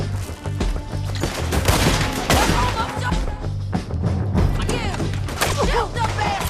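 Dense gunfire rattles through a Red Dead Redemption 2 shootout, loud and close, with rapid overlapping shots and cracks, mixed with shouting voices and other game sounds.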